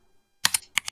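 Quick bursts of keystrokes on a computer keyboard while writing HTML code, four or five crisp, close clicks in two short groups after a moment of silence.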